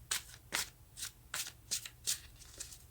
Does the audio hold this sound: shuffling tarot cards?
yes